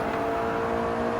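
Mitsubishi Evo 9 FQ320 in Gran Turismo 7 on the Nürburgring, its engine holding a steady, loud high-revving drone with a buzzing whine and no talk over it.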